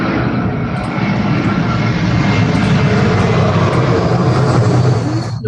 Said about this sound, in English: that sounds like an aeroplane landing. It is an aeroplane landing